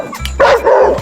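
Dogs bark loudly close by, two quick sharp barks after a brief low yip.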